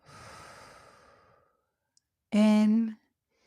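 A long, breathy exhale during guided breathing fades out over about a second and a half, followed after a short pause by a brief voiced sound, close to the microphone in a quiet room.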